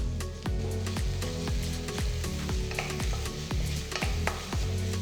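Finely chopped onion and curry leaves fry in a pan, giving a steady, dense sizzle with occasional stirring clinks, over a rhythmic low thumping in the background.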